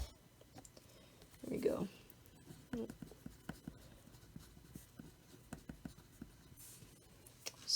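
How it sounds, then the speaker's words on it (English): Marker or chalk scratching and tapping on a board while a circle is drawn, a quiet, irregular series of short strokes and clicks, with a brief spoken remark. "So I'm going to draw a really terrible circle."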